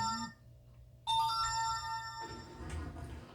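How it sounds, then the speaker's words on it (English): A phone ringtone goes off mid-recording in a kitchen where garlic Parmesan toast is being made, a bright melodic tone that starts abruptly and rings steadily for a couple of seconds before fading into background clatter. "every time I'm recording, my phone starts"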